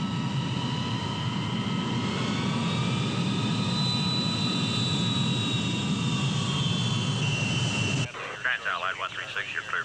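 Airliner jet engines whine and roar steadily before takeoff, a loud sustained drone with rising tonal whine lasting about eight seconds before dropping to a thinner, choppier rumble.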